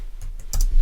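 A few quick keystrokes on a computer keyboard as a default value of 0 is entered, short close clicks in a brief burst with a sharper double tap midway.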